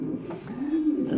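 Pigeon squab, a young Roman, King or Runt-type pigeon, gives soft low coos in a steady, close murmur lasting about a second, with a throaty rising note toward the end.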